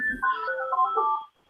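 A telephone rings out with a short electronic melodic ringtone, a bright warbling phrase lasting just over a second, loud and alone before cutting off.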